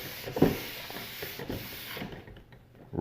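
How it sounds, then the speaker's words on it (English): Hands rub alcohol-based spiritual cleanser over a wooden table in a few soft, close swipes and scuffs, faint and brief, with no talking. "rub it over the table"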